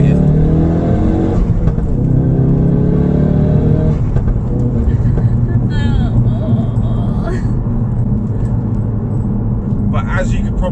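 A Ford Focus RS Mk3 375 accelerating hard out of a corner, its engine note rising loudly and continuously as heard from inside the cabin, with the throttle held through the pull.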